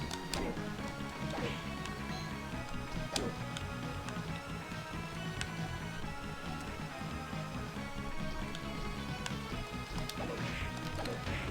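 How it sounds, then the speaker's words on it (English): Breakable walls get smashed in Castlevania: Aria of Sorrow, with sharp crashing hits and thwacks popping out at irregular intervals over continuous game music and noise. "Smashing random walls."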